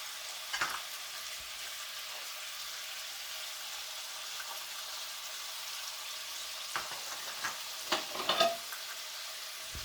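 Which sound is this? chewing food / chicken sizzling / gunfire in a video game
chicken sizzling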